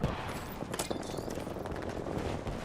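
Rapid automatic gunfire from Apex Legends crackles through a dense, loud exchange of shots, with bursts overlapping continuously across the whole moment and no one speaking.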